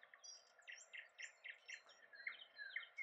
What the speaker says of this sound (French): les oiseaux qui sont derrière